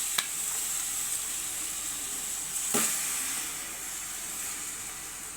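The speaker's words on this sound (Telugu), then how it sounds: "దాంట్లో చికెన్ వేసేస్తున్నాను." Raw chicken sizzles in a hot pan with a steady, bright hiss throughout, broken by a couple of sharp crackles and spits, with no talking.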